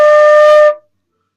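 A single flute note D rings clear and steady for about two-thirds of a second, then cuts off into silence.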